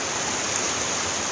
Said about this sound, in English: Luckily I'm right next to the river